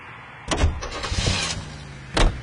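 A car in the L.A. Noire video game, with a couple of sharp door-like thumps and a brief engine rumble, close and fairly loud, with no talking.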